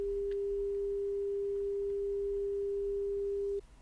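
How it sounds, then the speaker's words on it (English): A 400 hertz sine wave test tone, a steady pure hum held at constant loudness for over three seconds before cutting off abruptly, with nothing else heard. "I'm going to play what 400 hertz sounds for you right now"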